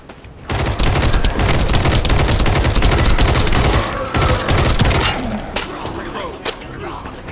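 A gun in The First Descendant video game fires long rattling bursts, loud and close, pausing briefly before more volleys fade out, with in-game voices underneath.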